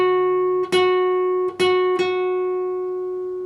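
Guitar note on the 11th fret of the G string is picked slowly several times, each clean pluck ringing into the next, close and alone.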